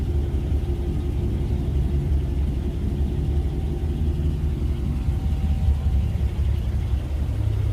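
A parked van's engine idles in a low, steady rumble with a faint whine over it. It holds an even level throughout, close by, with no voices.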